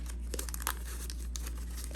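Crinkling, tearing wrapper of a 1986 Topps baseball wax pack being opened, faint and close with a steady low hum underneath.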